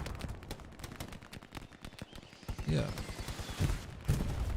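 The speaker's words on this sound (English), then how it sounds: "Artillery doing his job as well" Distant artillery and gunfire rumble in a Hell Let Loose battle, a steady barrage of dull thuds and cracks running throughout, with a brief spoken word partway through.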